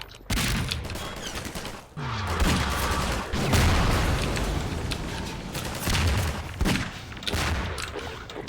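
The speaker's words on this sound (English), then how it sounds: "How many times do I have to shoot you?" Gunfire in Half-Life 2: rapid, loud bursts of automatic shots and booming impacts that keep going almost nonstop, close and dense, with hardly any speech.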